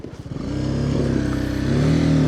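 A motorcycle on a mountain road, its engine humming steadily close by and rising in pitch as it accelerates, with no talking.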